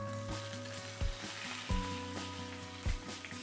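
Steak sizzles steadily in a hot pan while being pressed down, a constant close hiss with a few dull thumps from the meat being patted and a low hum underneath.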